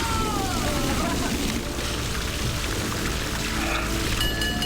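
Freezing cold water poured over housemates in a Big Brother UK task, a steady loud rushing splash that fills the whole clip, with faint voices under it.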